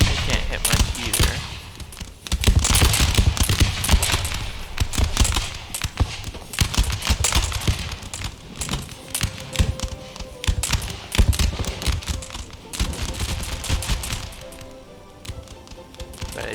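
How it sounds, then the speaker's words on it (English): Massed musket volleys from infantry in the Empire battle game, dense crackling fire that rolls continuously with sharp overlapping shots, loud and sustained throughout. "I'm having my troops fire, but they can't hit much either."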